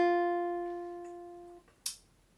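A single guitar note F rings out on the first string at the first fret, clear and sustained as it slowly fades, then cuts off with a soft string squeak at the end.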